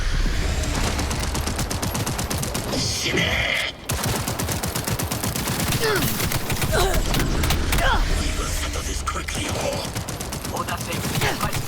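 The Dying Night pistol in Cyberpunk fires in fast, nearly continuous automatic bursts, a dense rattle of shots that barely pauses except for one short gap, layered with other game effects and a player talking throughout.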